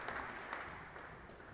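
Crowd applause at a live squash match during the Scottish Squash Open 2021, a steady broadband clapping wash that fills the whole moment, moderately distant, with faint bursts of cheering.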